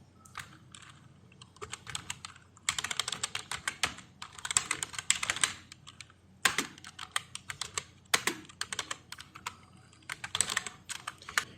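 Rapid keystrokes from someone typing code on a computer keyboard in bursts of clicking, with short pauses between runs, close and clear with no talk.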